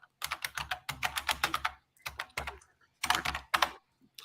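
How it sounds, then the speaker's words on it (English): Rapid clattering keystrokes on a computer keyboard come in quick bursts with short pauses, close and crisp, with no voice over them. "Sorry if my keyboard triggers you."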